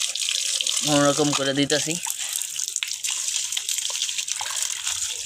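Tap water runs steadily while a container is rubbed clean by hand, a continuous splashing hiss with small drips. Someone speaks briefly over it near the start.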